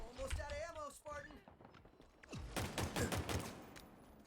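Needler fire in Halo Infinite, a rapid burst of sharp crackling shots following a stretch of speech, the volley loud and close with brief talk before it.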